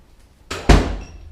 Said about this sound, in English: close the door, and adjust